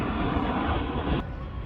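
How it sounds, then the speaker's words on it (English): An airplane passing overhead, a steady broad engine roar filling the whole stretch, loud and continuous, dropping slightly in level near the end. "then we get another airplane flying over"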